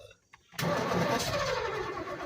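A small engine, its carburetor just filled with gas, cranks briefly and then catches, settling into a loud, steady running roar close by.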